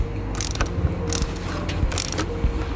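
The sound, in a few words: tightening car battery terminal with a hand tool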